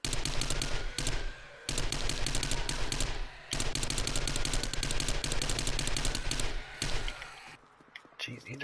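Rapid bursts of automatic gunfire from the video game 7 Days to Die, loud and close, firing in sustained volleys with a few brief pauses and a voice talking over part of it.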